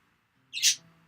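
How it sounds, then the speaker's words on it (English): A single short, bright squawk from a bird in the video game Doki Doki Literature Club, breaking briefly out of near silence and loud for under half a second. "But birds! Hey! Shh! Squawk any other time but now."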